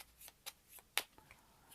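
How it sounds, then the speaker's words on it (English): A deck of Arkham Horror card game cards being shuffled by hand, quiet, close riffling with a few crisp snaps, heard alone in a short burst. "We give the deck a shuffle."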